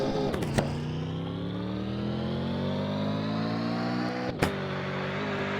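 Sedan engine in a mobile driving game, a steady mid-pitched drone that climbs gradually in pitch as the car accelerates, with two brief sharp knocks near the start and one near the end, no voices.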